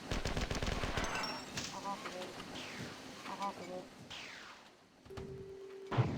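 Assault rifle fire in the classic shooter Marathon 2 comes as rapid automatic bursts, fairly faint and compressed, broken up by short pauses, with a reload-like mechanical clack near the end.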